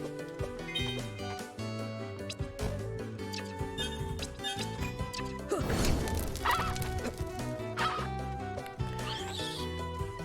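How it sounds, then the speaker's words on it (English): Birds in the game Timespinner squawk and cluck in short bursts over busy game music, with a crash of combat sound partway through and no talking. "The birds are weak to plasma."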